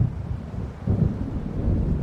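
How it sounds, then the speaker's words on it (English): Low, rolling thunder of an approaching storm in the video game Alan Wake, a deep rumble that swells midway and holds without voices. "It seems there's a storm coming."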